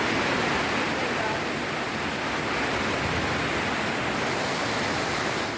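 Floodwater rushing along a city avenue and sweeping cars away, heard as a loud, continuous, broadband roar of torrential water with no breaks.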